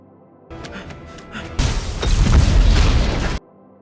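A house built on a stacked structure explodes in a single loud blast that roars on as a sustained rumbling burst for nearly two seconds, preceded by quieter rumbling, then cuts off abruptly.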